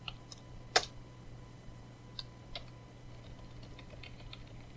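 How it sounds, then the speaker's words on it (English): A computer keyboard gives a few sparse, quiet key clicks over a faint steady hum, with short gaps between presses. "this time I'll type it right"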